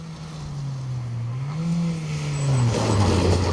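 A Mini rally car on a stage course with banking revs hard, its engine note climbing and dipping through gear changes as it drives past at moderate distance, with a rising roar near the end.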